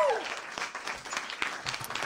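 A studio audience at a Finnish TV show applauds, a steady burst of many hands clapping fairly near, with a voice speaking over the applause.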